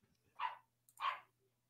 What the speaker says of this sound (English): Can you hear my dog?